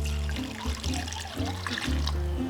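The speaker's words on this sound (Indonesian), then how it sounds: "Nih, tepung yang sama kayak tadi, kita campurin air" Water runs into green cendol flour in a mixing bowl, a steady trickling pour with a few gurgling surges, close and fairly quiet with no voices.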